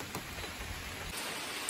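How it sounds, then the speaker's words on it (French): Heavy rain pours steadily outside, a soft, dense wash of drops heard from a little distance with no talk over it. "Là, il pleut comme ça se peut pas"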